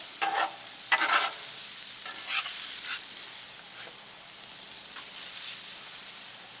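Burgers cook on a flat-top griddle with a constant high, bright sizzle, broken by a few scraping bursts of a spatula, loud and close with no voices.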